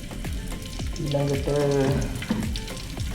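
Ingredients hiss and sizzle in hot oil in a pan while homemade kothu is cooked, a steady close frying sound with scraping stirs and a brief word spoken over it.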